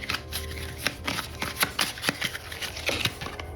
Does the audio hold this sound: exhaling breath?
no